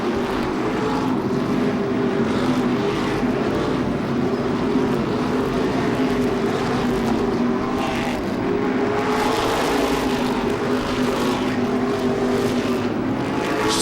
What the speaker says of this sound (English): the many-time champion is under green and on the speedway and racing again in that number 60 modified